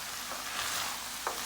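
Onions and vegetables that are starting to stick to the bottom of a pan sizzle softly while they are stirred, with a brief scrape near the end and no talking.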